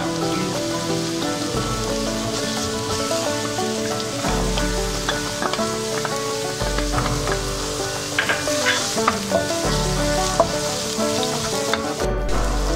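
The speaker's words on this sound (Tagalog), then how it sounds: "Sinasangkot siya lang po muna yung luya, then ilalagay na po yung bawang pala." Ginger, then garlic, sautéing in oil in a pan for Bicol Express, a steady close sizzle and crackle running throughout with background music layered over it.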